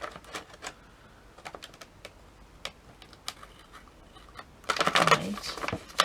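Pinking shears snip through paper as faux Christmas stamps are cut out, giving sparse, crisp clicks at first and then a closer, louder burst of rapid cutting crunches near the end.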